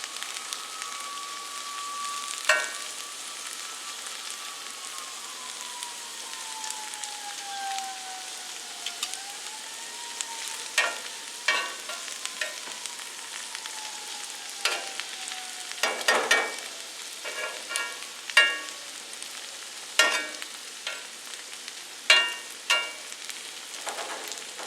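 Zucchini sizzling on an outdoor grill, a steady close hiss with scattered sharper pops and crackles, alongside a faint, slowly gliding whine, and no one speaking.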